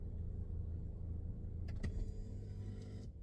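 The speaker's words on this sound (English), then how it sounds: "Turning my car off." A parked car's engine idles with a steady low hum, then winds down and goes quiet near the end as it is switched off.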